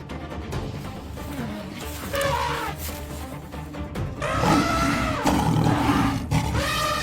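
A lioness roaring with deep, thunderous, drawn-out calls that come in repeated bellows, loud and close over a rumbling low background, each roar stronger than the last.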